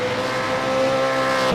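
V8 race car in a sim racing game at Silverstone, engine holding a steady loud drone with a sustained tonal whine as the brakes lock up and the rear snaps into oversteer, no talk over it.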